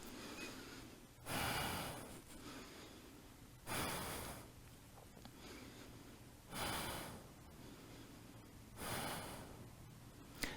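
Slow, deep breathing during a yoga pose, four long audible breaths spaced a few seconds apart, close and soft with quiet stillness in between.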